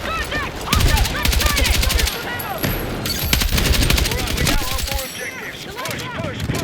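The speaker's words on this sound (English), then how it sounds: "See, there I was tap firing just a little bit" Rapid bursts of close gunfire from a weapon fired in short taps in Battlefield 6, loud cracking volleys with brief gaps and overlapping distant shots, alongside in-game voice callouts.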